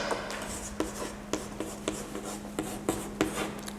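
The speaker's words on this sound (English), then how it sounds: "You can go to write here computer account." A pen writes ledger account headings by hand on paper, making a close scratching rub broken by regular tapping strokes, with a faint steady hum beneath and no one talking.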